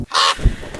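A crow gives a single harsh, close caw from among bushes, followed by a soft rustle or thump in a quiet outdoor setting.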